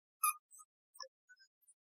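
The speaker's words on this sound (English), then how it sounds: "And sorry if you hear squeaking" Faint, high squeaks from a dog's toy as the dog walks up and plays, several short separate chirps spaced over a couple of seconds in an otherwise quiet room.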